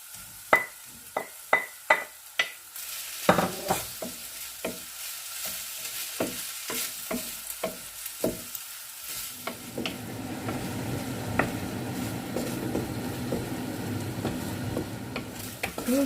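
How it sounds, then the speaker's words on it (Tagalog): Corned beef fries in a pan: a series of sharp scraping stirs and taps, then a steady loud sizzle as the meat cooks, with the stirring continuing over the frying and no voices. "isunod na nating ilagay yung ating corned beef"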